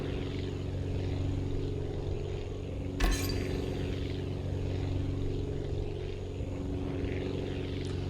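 Propeller plane engine droning steadily in the game Aviassembly as it tries to take off on a tail wheel, a continuous loud hum with a brief clatter near the middle.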